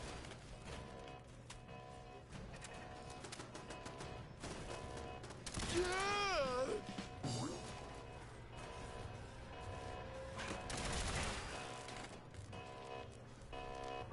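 Gunfire in Fallout 4 rings out in scattered bursts of sharp shots and clatter over a low game background, loudest in a couple of clusters midway and later, with a faint voice nearby.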